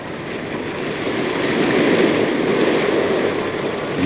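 Ocean surf rolling onto the Cornwall coast, a loud steady roar of breaking waves with broad hiss that swells slightly mid-way and holds without pause.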